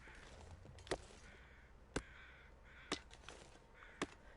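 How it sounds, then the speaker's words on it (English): Crows caw in the open wilds, four loud harsh calls spaced about a second apart against a faint hiss of wind. "I am wondering kind of what all this crow noise is about"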